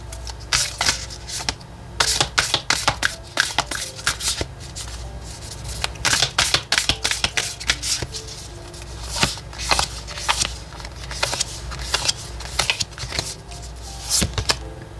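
A deck of oracle cards is shuffled for a tarot reading, giving a dense run of crisp riffling and slapping card sounds that continues close and steady for the whole stretch, with no talking.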